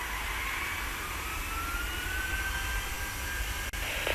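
A jet airliner takes off in the video game Tower! Simulator 3, a steady loud roar of engines with a rising whine, continuous and close throughout.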